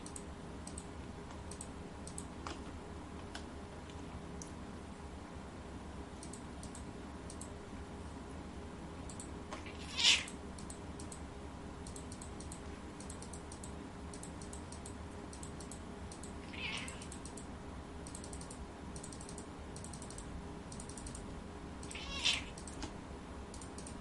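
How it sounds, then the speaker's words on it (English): Domestic cat meowing indoors over soft computer keyboard typing and clicks. Two or three brief, faint meows are spread across a long stretch of otherwise quiet room sound. "Are you actually shouting at me, Mr. Cat?"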